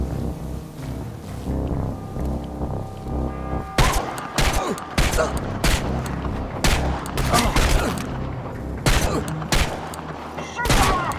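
Bursts of gunfire in the video game Chernobylite, with sharp shots and fusillades coming thick and loud after a quieter opening stretch, ringing out over a steady background rumble.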